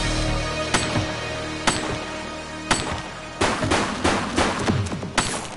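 Sharp gunshots in the police video game The Precinct crack out as a ragged string of single reports, then a faster flurry of shots, loud and close with no talking.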